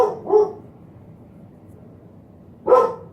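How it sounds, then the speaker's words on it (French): A pet dog barks indoors: two quick close barks, then a stretch of near silence before one more loud bark, heard alone with no talking. "avant que mon chien commence à aboyer"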